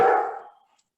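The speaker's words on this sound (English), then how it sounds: "my little dog is barking" A pet dog, not small, barks once loudly and close indoors, the sound trailing off quickly into silence.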